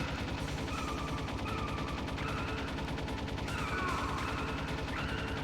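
Rapid, continuous machine gun fire from a turret mounted on the back of a Jeep in Metal Gear Solid, a steady dense rattle of shots over rumbling engine noise, loud and sustained throughout with no talking.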